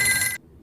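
A telephone in a Squid Game scene gives a single short bright ring burst that cuts off abruptly, followed by quiet.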